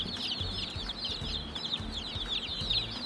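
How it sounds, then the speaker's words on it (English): Polish baby chicks, the kind with little tufts on their heads, peep continuously in close, busy high-pitched chirps, with soft shuffling and bumps from a hatchery shipping box underneath. "This is a little Polish chick."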